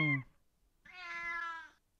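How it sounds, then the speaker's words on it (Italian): A kitten gives a short, thin, high cry, then a longer drawn-out meow, both close and clear against near silence. "Eh, un gattino."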